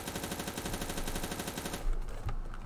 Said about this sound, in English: now I'm gonna move on to the Mini Uzi, which is an iconic gun